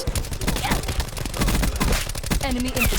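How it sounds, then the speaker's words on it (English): A Hellstorm missile strike in Black Ops 4 hits as a rapid, chaotic cluster of loud blasts and gunfire-like impacts, dense and continuous across the moment. "that's of course going to be the Hellstorm missile"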